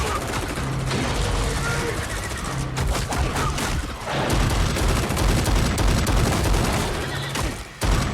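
Rapid assault rifle fire from soldiers in Stranger Things, dense bursts and volleys of shots running continuously with booming impacts over a loud, busy battle mix.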